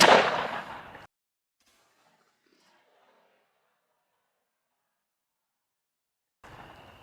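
One loud close shotgun blast from a Stevens 301 with a CBT .381 choke, fired at a turkey target outdoors, decaying over about a second into silence before faint rustling returns.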